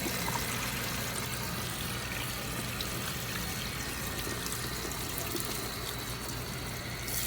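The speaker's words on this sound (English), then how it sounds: "So you gotta water rinse this for 5 minutes." Steady running water from a hose rinsing permed hair during a wavy perm neutralizing process, a continuous close pouring and trickling wash with no talk.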